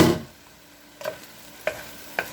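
Mushrooms tossed into a frying pan for a homemade chicken pot pie casserole: a loud initial sizzle fading into a low steady fry, with three soft stirring scrapes spaced out after.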